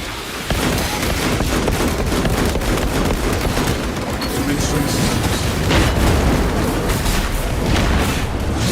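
Mines bursting under gunfire in the Space Marine 2 video game: a dense, loud, continuous barrage of booms and rapid shots with crackling bursts throughout, steady and close with no pauses.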